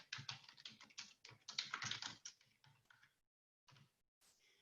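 Rapid key clicks from a computer keyboard as a simple sentence is typed into Microsoft Word, close and clear in irregular bursts, then a pause and a few final keystrokes.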